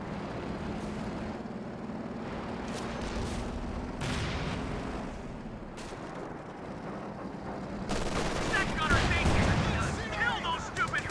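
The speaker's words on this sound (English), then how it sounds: "that's a solid hit from the Sherman" A Sherman tank fires a shell in Company of Heroes 2, with heavy booming blasts and rumbling battlefield explosions scattered through a dense mix of gunfire, growing louder and busier toward the end.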